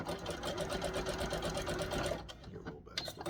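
A sewing machine runs a quick backstitch through elastic on wrestling tights with white thread, a close, rapid mechanical whir and needle chatter that stops after about two seconds, leaving a few soft handling noises.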